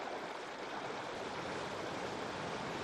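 Small streams flowing in the Carpathian mountains, a steady rushing hiss of water, close and continuous, with no talk.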